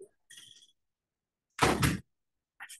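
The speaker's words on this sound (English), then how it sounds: "I'm gonna just close this door." An indoor door is pushed shut with a single broad thud, preceded by faint shuffling and followed by a brief soft knock near the end.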